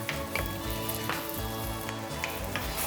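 Canned tomatoes cook in a pan with a steady close sizzle and bubbling, along with occasional soft pops and spoon taps.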